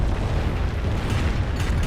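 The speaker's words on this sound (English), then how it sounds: "5-3 rocket barrage reading on in" Rocket barrage in the Company of Heroes 1 World War II strategy game, a dense, continuous rumble of overlapping explosions with a few sharper bursts near the end.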